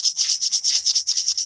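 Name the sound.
sanding a wooden ring with fine sandpaper along the grain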